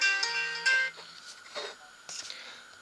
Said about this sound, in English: we just got Mr. Chris Graffin trying to ring me now on the phone